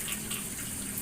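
Steady water pours from a bathroom shower in a village house, a continuous close, hissing splash with no break.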